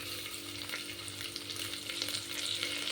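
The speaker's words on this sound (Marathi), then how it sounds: "त्या आपल्याला तेलातच टाकून घ्यायच्या." Coriander stems sizzle in hot oil in a pan for a vegetable pulao, giving a continuous crackling, spitting fry that holds steady and close with no talking.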